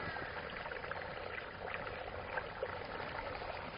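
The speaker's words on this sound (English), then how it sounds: "You got water flowing. I don't know if you can hear that through the rocks." A small stream trickles and flows among rocks and boulders before spilling into a pool. It makes a faint, steady outdoor wash with no voices.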